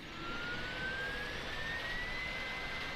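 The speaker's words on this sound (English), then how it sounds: "so you can hear the APU still coming up." The auxiliary power unit of an Airbus A310-300 in Microsoft Flight Simulator spools up, a continuous broadband roar with a faint whine rising slowly in pitch, steady and loud throughout, no talking.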